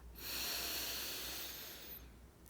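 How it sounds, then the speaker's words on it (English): A person draws one soft, slow breath in through the nose during a gentle morning yoga practice. The airy hiss swells and fades over about two seconds, faint and close, with no talking. "Inhale."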